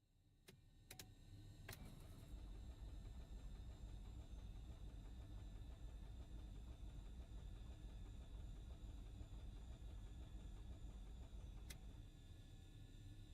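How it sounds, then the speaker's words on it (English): The left piston engine of a simulated Baron 58P cranks up after a few sharp clicks, settling into a steady, low, rumbling drone with a faint whine that holds evenly and quietly to the end. "And we can start left engine."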